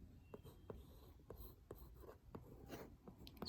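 Pencil sketching a portrait of an elderly man on paper, soft scratchy strokes repeating in short bursts, close and quiet, with no talking.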